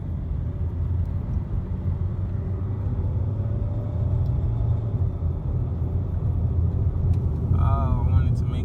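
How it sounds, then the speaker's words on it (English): A red Nissan Sentra with a 4-cylinder engine drives along, its low steady engine hum and road rumble continuous and fairly loud throughout, with a faint brief chirp near the end. "It's a 4-cylinder, so I can respect the light pull it has on the gas."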